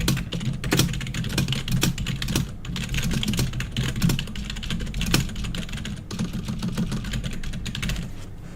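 Steady, close computer-keyboard typing runs continuously with dense, irregular keystroke clicks and occasional sharper taps, no voice over it.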